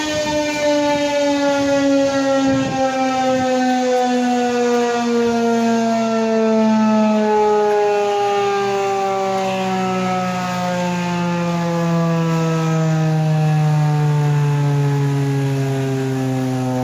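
A Federal Signal 2001 outdoor warning siren in Ann Arbor sounds during a test, loud and nearby, with a sustained wailing tone that slowly falls and then climbs again as the rotor turns, heard alone without voices.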